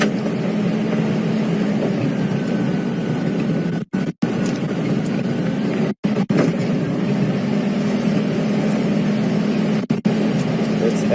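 Safari vehicle on a sunrise game drive, a steady low engine rumble with road noise heard from inside or close by, continuous throughout with a few brief dropouts and no clear talking.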